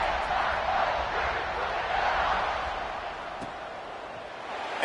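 A large crowd in a college football stadium cheers and roars steadily at a kickoff, a broad loud wash of voices that eases slightly midway and swells again at the end.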